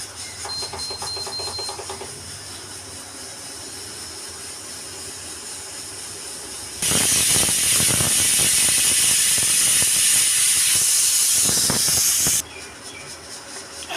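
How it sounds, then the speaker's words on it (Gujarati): A pressure cooker on a gas stove, cooking a drumstick and potato vegetable dish, lets out a loud, sustained hissing whistle of escaping steam for several seconds, following quieter kitchen sounds and ending abruptly. "આ એની પહેલી વિસલ વાગી રહી છે અત્યારે."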